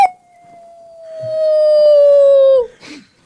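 A person imitates a wolf howl with the voice: one long, loud, steady tone held for about two and a half seconds that slides slightly downward and ends with a short breath, heard alone with no talk.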